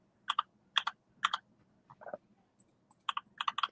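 Bursts of computer keyboard typing come in short clusters of quick key clicks separated by pauses, close and crisp against a quiet background.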